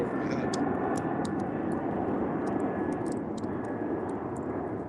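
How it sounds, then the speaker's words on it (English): A jet plane passes overhead outdoors, a broad continuous roar that stays steady and fairly loud for the whole stretch, with faint short higher ticks scattered over it and no talking. "It's been a long time since I've been live outside and had a plane going over my head."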